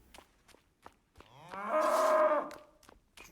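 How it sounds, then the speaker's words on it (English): A cow in the video game Rising World lets out one long, loud moo that rises and fades, set between sparse clicks and clatter from the game. "Dang cow."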